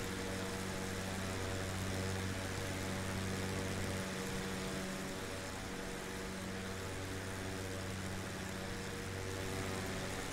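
A propeller aircraft engine in a flight simulator game drones steadily at one even pitch, with a slight shift in tone partway through and no speech.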